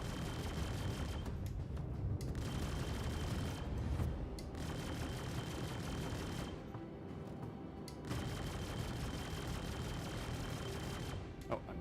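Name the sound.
gunfire from ship weapons in the video game Star Citizen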